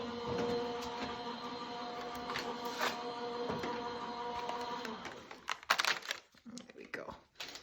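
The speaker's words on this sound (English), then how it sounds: "that's going to go straight through our die cutting machine" A die cutting machine running a frosty wreath die through for a cardmaking project, a steady mechanical whirring hum for about five seconds, then ending in a few louder clicks and rustles as the plates come out, with faint talk.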